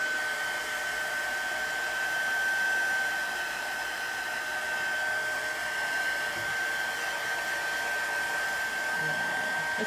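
Heat tool blowing steadily at close range to heat set wet chalk paste, a continuous airy roar with a fixed high whine running through it for the whole stretch, no talking.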